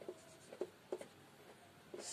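A pen scratches out short strokes on paper during a math lesson, quiet intermittent scribbles in small clusters against a soft room hush.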